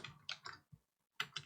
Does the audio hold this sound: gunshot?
no